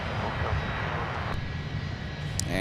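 A heavy jet airliner roars on runway 12 Right at Minneapolis–Saint Paul airport, a loud, continuous broadband engine rumble with no voices.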